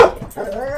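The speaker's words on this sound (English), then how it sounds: "There's a dog out there." A dog outdoors, one of several being walked nearby, lets out a short yelp followed by a drawn-out whining, whimpering tone, under a second of moderately close sound with no talking.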